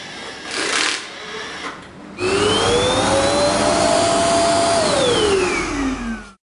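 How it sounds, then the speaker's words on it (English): An Ecovacs Deebot D76 charging station's canister sucks dust out of the robot vacuum with a loud, steady whirring roar that rises in pitch, holds, then winds down, after brief rustling at the start. "the canister above will automatically begin to work, sucking the dust from Deebot"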